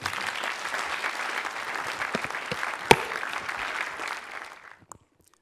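Applause fills a hall at the 2015 Asia Pacific Cities Summit and Mayors' Forum as the audience welcomes keynote speaker S.Y. Lau, a dense, steady clapping that carries on for several seconds before tapering off into quiet.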